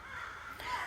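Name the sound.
birds calling in a park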